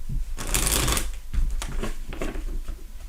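Cards for a horoscope reading are shuffled close up in a few quick riffling bursts, a dense papery flutter that rises and falls with brief pauses.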